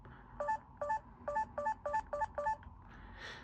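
Keypad dial tones from an LG Pop GD510 mobile phone beep seven times in a steady, evenly spaced sequence, clear and close, over faint room noise.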